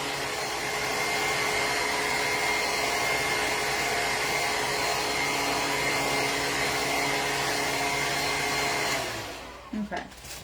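A heat tool blows steadily onto acrylic paint on a spooky painting, a loud continuous whooshing drone for about nine seconds before it is switched off and fades, leaving a few faint handling knocks.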